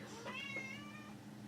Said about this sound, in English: Meow! My cat's in the room.